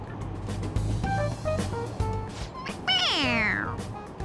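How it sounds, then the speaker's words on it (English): A toy cat in Persona 5 Royal lets out a single clear, rising-then-falling meow when pressed on the head, heard up close over soft game background sounds. "It meows when you press on its head."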